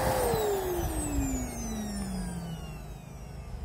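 A vacuum cleaner powered from a solar battery set to 1250 watts starts up with a loud rising roar and a motor whine that sweeps steadily through its pitch as it spins up, running alone without voices.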